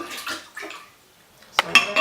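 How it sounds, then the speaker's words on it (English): Water kefir grains drop into a vessel of sugar water with soft splashes and sloshing, a few brief wet bursts separated by a near-silent pause, then a sharper splash and trickle at the end. "So now we put the grains in."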